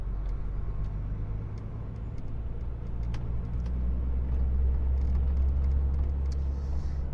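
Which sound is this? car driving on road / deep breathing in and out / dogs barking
car driving on road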